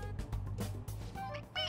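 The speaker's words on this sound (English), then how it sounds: "It meows when you press on its head." A toy cat in the game Persona 5 Royal gives a short meow when pressed on its head, a quick high mew over game music and background sound.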